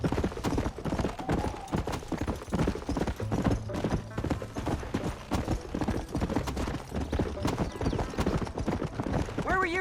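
Horse hooves clip-clopping at a quick, steady riding pace in the video game Red Dead Redemption, close and continuous, with occasional game voices and a brief whinny mixed in.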